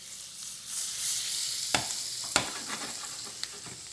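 Butter sizzling in a pan being swirled before mussels go in, a steady hissing fry with a few sharp clinks and scrapes of the pan, close and unaccompanied by speech.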